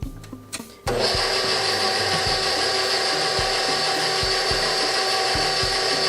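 Stand mixer kneading bread dough for soft steamed rolls, a brief clatter as it starts, then a loud steady motor whine with rhythmic thumping and knocking as the dough turns.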